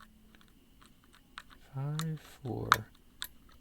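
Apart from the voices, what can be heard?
lock pick clicking pins in Master Lock Model 15 laminated lock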